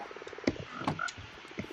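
Frogs in the Livestock Overhaul mod for a video game croak in quick repeated pulses, a close rhythmic chorus with a few louder croaks standing out.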